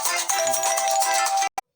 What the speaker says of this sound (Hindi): फोन आ गया था